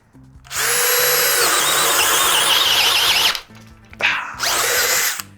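A DeWalt DCD800 cordless drill bores into wood with a giant bit, a loud high squealing whine that strains for about three seconds, cuts out, then revs again in two shorter bursts.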